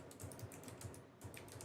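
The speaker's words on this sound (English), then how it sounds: "Who is typing?" Steady, rapid keystrokes on a computer keyboard clatter faintly in the background of an online tabletop game session, continuing without pause and with no voices over them.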